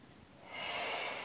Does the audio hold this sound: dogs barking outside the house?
no